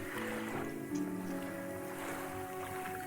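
A boat engine hums steadily in the fishing video game Dredge, a low continuous drone with faint water lapping around it, quiet and unbroken.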